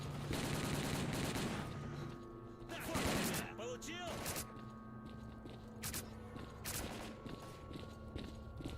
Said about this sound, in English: this gun messes things up, doesn't it? It's definitely not an automatic rifle. It's a sniper rifle.